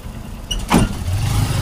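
Motor tricycle engine idling and running close by, a steady low rumble with a brief louder surge, carrying lobster for street vending on a sunny day before New Year.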